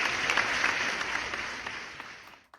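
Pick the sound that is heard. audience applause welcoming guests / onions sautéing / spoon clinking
audience applause welcoming guests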